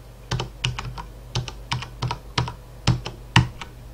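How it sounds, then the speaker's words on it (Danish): Someone types an IP address into a browser on a computer keyboard: about a dozen crisp key taps in small irregular bursts, close and clear, with no talk. "Inde i jeres browser, der indtaster I nu selve IP-adressen"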